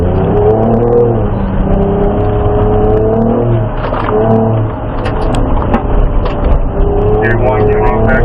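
A Ford Ranger Raptor driven around a race track, its engine droning and rising and falling as it accelerates and eases off, loud and close, with people talking over it.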